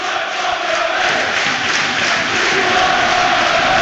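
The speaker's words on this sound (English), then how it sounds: "the home crowd may be sensing their team need them. Turn up the volume as a result" Home crowd at a Plymouth Argyle versus Southampton football match cheering and roaring in a large stadium, a dense, sustained wall of voices that swells louder toward the end.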